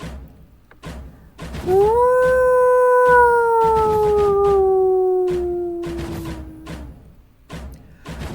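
A lone wolf-like creature's long howl rises, holds and slowly falls over several seconds, loud and near with rich harmonics, framed by quieter rustling and soft knocks before and after.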